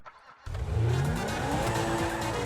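A car in the video game GTA V starts up out of near silence and pulls away with a rising engine rev and a tire squeal, loud and close, no voices.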